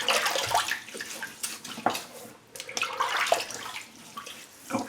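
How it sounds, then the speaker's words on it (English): Water splashes and runs at a sink as a face is wetted before a shave, a steady close sloshing with scattered drips, cupped splashes and faint clinks, with no talking. "let me wet the face"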